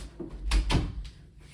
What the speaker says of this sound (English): I just needed to close the door.